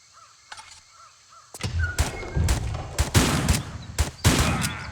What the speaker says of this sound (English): I'm gonna shotgun this guy